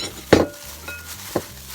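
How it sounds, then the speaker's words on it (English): A kitchen knife slicing shiitake mushrooms without a cutting board, two short close cuts about a second apart against a quiet background. "So I'm going to take my knife and just start cutting them a little smaller."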